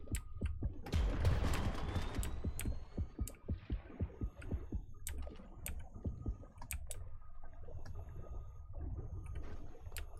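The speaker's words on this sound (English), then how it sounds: "that heartbeat indicates the shark's close" In the video game Depth, a heartbeat warns that a shark is near: a steady, rhythmic thumping pulse runs throughout, under keyboard typing and clicks.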